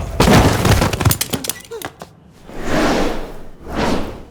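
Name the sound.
gunshots in a film scene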